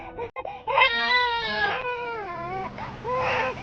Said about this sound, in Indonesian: Ada suara bayi.